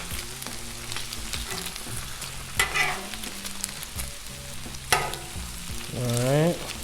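Ultra thin turkey bacon sizzling on a Blackstone griddle, steady close frying hiss with occasional scrapes and clanks from a spatula and a few background sounds.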